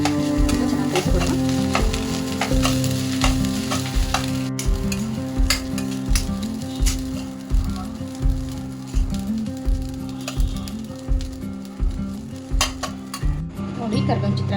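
Curry leaf rice sizzles in a pan while a spoon stirs it in a steady rhythm of scraping knocks, close and clear over a continuous frying hiss.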